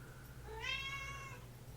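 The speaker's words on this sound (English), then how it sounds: "We're getting close to when the cat gets hungry." A hungry cat, Smelly, lets out a single clear drawn-out meow, close by and moderately loud over a low steady background hum.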